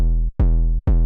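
A thumpy, kick-like 808 bass from a music production hits twice, each note a punchy low thud that holds as a loud, steady bass tone without much pitch sweep.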